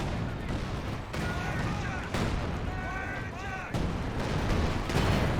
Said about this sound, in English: Grenades thrown.